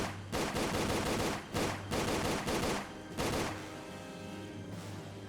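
Loud, close bursts of gunfire from the Tomb Raider: The Angel of Darkness video game ring out in repeated volleys, then trail into a steady game hum with no voices.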